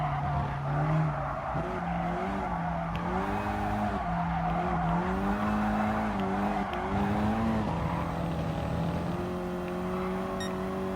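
A Ford Focus ST corners hard in Gran Turismo Sport on a Dragon Trail reverse time-trial run, its engine tone rising and falling steadily while the tires skid and squeal through the turn, loud and continuous with no talk.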